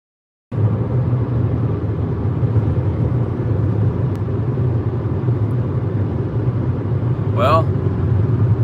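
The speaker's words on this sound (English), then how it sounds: "There's a lot of traffic." Road traffic while a car is being driven: a steady, loud low engine and tyre rumble that holds constant throughout, with a brief faint chirp near the end.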